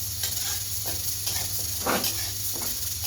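Mung dal lightly frying in a pan, a steady close sizzle with soft stirring scrapes coming and going.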